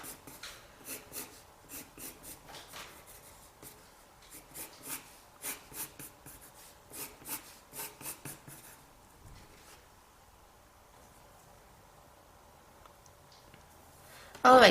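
A pencil draws thin cylinders for a manga-style body on paper, giving repeated soft scratchy strokes in a steady rhythm, close and quiet, that fade to near silence before a brief loud noise at the end.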